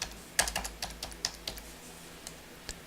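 A Social Security number is typed on a computer keyboard: a quick, irregular run of close, crisp key clicks, a dozen or so taps, some louder than others.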